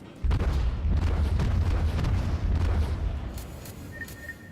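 Heavy naval gunfire from warship cannons in World of Warships booms in a deep, rumbling volley lasting a few seconds before fading, loud and close, followed by a faint interface beep.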